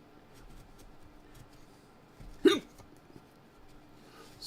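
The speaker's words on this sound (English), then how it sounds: "Still got the hiccups." A single short hiccup bursts out close by, standing clear of a quiet room hum around a reel-to-reel tape recorder being cleaned.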